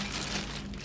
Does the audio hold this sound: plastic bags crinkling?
yes